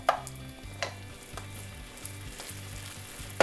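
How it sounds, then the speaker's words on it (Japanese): Noodles pan-frying until crispy, a steady close sizzle with occasional scraping stirs and a low rhythmic hum underneath. "この状態でもう3分焼いていきます"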